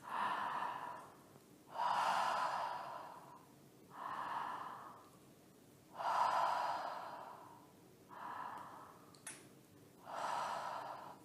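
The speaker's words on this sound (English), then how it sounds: "Open the mouth and we're going to inhale and exhale through the mouth and hear the breath like this." Slow, deep breaths drawn in and pushed out through an open mouth during a yoga breathing exercise, six airy rushes in an even rhythm with short pauses between, close and clear with no talking.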